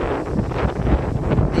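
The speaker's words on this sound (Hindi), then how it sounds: "इतनी तेज हवा में स्प्रे भी नहीं होती है" Strong, cold wind roars steadily across an open farm field, buffeting the microphone with loud, continuous gusts and rumble.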